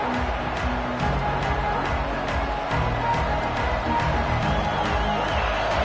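A football stadium crowd roars steadily throughout, a dense, loud wash of cheering and noise at a Bulldogs game with no break.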